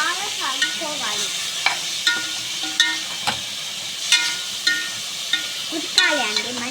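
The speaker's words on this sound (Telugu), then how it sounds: "మటన్ అయితే వేసేసుకోవాలి. వేసేసుకొని బాగా కలుపుకోవాలి." Mutton pieces being stirred through fried ginger paste in a frying pan, with steady sizzling and repeated soft scrapes and knocks of a spoon against the pan at a regular rhythm.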